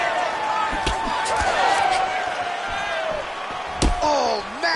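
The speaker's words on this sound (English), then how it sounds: "Oh, massive kick lands flush." Kicks land in a fighting video game, sharp percussive impacts scattered through a busy mix of game effects and crowd noise, with commentary running over them.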